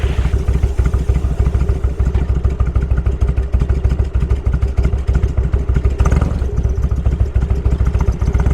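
A motorcycle-heavy stream of traffic rumbles steadily on a Black Hills road during the Sturgis rally, with a loud, continuous engine drone and a vehicle passing close by.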